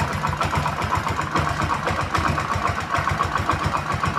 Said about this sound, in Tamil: ஐலிங் ரொம்ப கம்மி. பாருங்கள், ஐலிங் லைட்டாக வச்சிடலாம்.